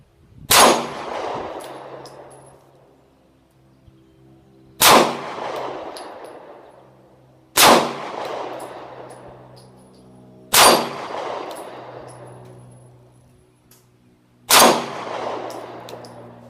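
Five Diamondback DB9 EXO pistol shots fired at 6-inch steel plates at 15 yards, each sharp loud crack spaced a few seconds apart and followed by a ringing metallic tail.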